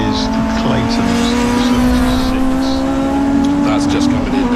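A Clio race car comes in at Castle Combe circuit during a CSCC Tin Top race, its engine droning steadily and loud throughout, with tire and track noise and faint voices in the background.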